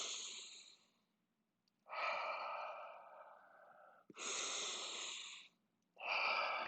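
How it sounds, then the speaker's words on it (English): Slow, deep breaths during a held spine stretch in a Pilates reformer class, three long airy breaths close to the mic separated by short quiet gaps. "I'm going to breathe 3 times into my spine."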